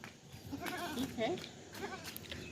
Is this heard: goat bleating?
yes